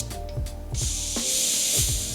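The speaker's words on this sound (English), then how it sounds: "we're gonna use our shock pump right here and we're gonna let the air out really slow" Air hisses steadily out of a RockShox Boxxer downhill fork through a shock pump being slowly bled, a bright continuous hiss that starts after a few clicks and fiddling noises and holds to the end.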